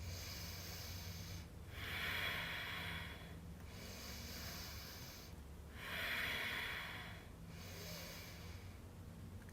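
A yoga student holding a plank pose breathes slowly and audibly, with three long hissing exhales alternating with quieter inhales in a steady rhythm, close and alone.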